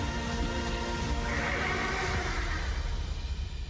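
A horse in the Oblivion Remastered video game trailer lets out a single drawn-out whinny over a dense layer of trailer music and ambience, moderately loud and fading toward the end.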